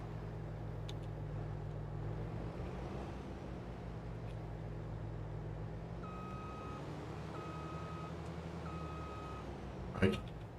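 A tractor backs up toward a trailer on a farm in Farming Simulator 22, its steady reversing beeps repeating in even pulses over a low, continuous engine drone, with a brief clatter near the end.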